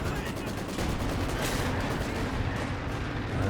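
Sustained MG42 machine gun fire crackles through a World War II strategy game battle against penal infantry, a dense continuous rattle mixed with distant gunfire and explosions, with a commentator talking over it.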